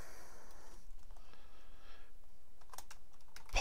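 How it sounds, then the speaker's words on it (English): Typing on a computer keyboard, a quiet, steady run of soft key clicks over low room noise, ending in one sharper click. "And we're just going to type in"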